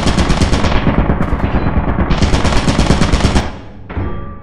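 Rapid automatic gunfire in a shooter video game, loud and continuous bursts for over three seconds, then a short pause and a quieter resumed burst, with no talking over it.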